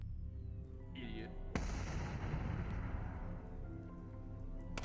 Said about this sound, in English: You blew yourself up.